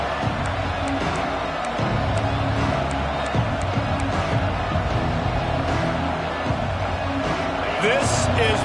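Stadium crowd noise in an NCAA football video game, a dense, continuous roar of many voices with scattered cheers and whoops, steady and full throughout, with a commentator's voice faintly under it.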